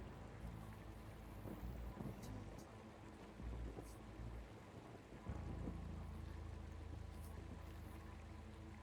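Video game storm with thunder and rain: a steady wash of rain and low rumbling that swells into a heavier, louder roll of thunder about halfway through, continuous throughout.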